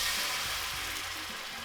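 Katsudon sauce made with mirin heating in a pan, producing a steady, fairly soft broadband sizzle and bubbling hiss that continues evenly without talk.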